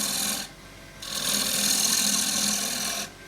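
A bench grinder sharpens a woodturning tool, giving two bursts of harsh rasping grind over a steady motor hum, the second burst longer than the first.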